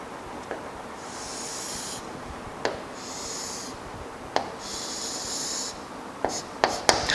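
A pen strokes across paper in three separate scratchy lines while drawing a triangle, each lasting about a second, with small taps and clicks between strokes and near the end.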